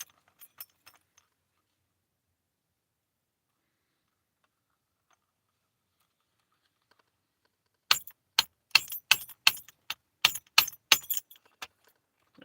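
A bump key is worked in a lock, sounding as a rapid burst of sharp metallic taps and clicks after a long near-silent stretch, with a few faint jingles at the start.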